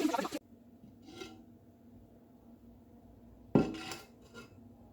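Quince pieces are turned in a tagine pot, giving two short bursts of clattering pot and utensil noise, one at the very start and another partway through, with quiet simmering in between.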